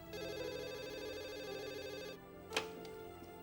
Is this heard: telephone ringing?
yes